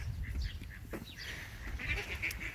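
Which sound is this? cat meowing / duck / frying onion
duck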